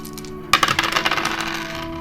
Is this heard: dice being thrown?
yes